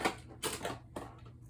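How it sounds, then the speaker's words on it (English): Scissors with a shaped decorative edge snip through paper for cardmaking, giving three short crisp cutting bursts, close and fairly quiet, with no talking. "The edge is cut with an edged shaped edge scissor"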